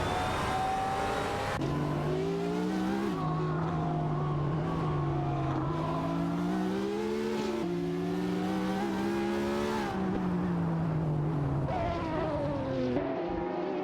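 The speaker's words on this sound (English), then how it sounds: "Racing car." Racing car engines roar in a racing video game, a loud, continuous whine that climbs and drops with each gear shift and acceleration, holding steady the whole time.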